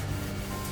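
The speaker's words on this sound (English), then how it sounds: "So all you're going to do is basically run the wet and dry" Wet and dry paper of 500 grit rubbed across the rim of a matt bath, a short, steady, gritty scrubbing hiss, close and continuous with no talk.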